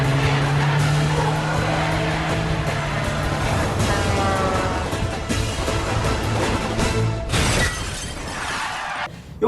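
Car chase from a Jason Bourne movie on a Las Vegas street: loud roaring engines, screeching tires and crashing, shattering impacts in a dense continuous rush, ending in a sudden cut.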